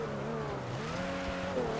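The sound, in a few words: Dinka Blista car braking downhill in video game GTA Online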